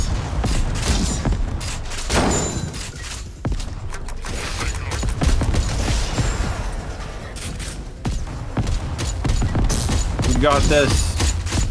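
Gunfire in the video game Echo Point Nova, scattered shots and bursts mixed with mechanical clanks and creaks, under a player's short spoken remark and game sounds throughout.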